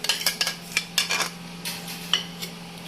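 Chicken is mixed in a bowl with spices and yogurt, and a spoon clinks and scrapes against the bowl in a quick irregular run of close taps with no one talking.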